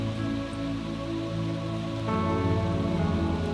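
Rain pours over a city in a constant wash of hissing drops, swelling slightly louder partway through, with a low steady hum underneath and no voices.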